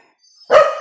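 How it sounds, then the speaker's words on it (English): A dog gives a single sharp, loud bark at close range, preceded by a faint high tone and a short quiet lead-in. "You bark. You bark. Everybody bark."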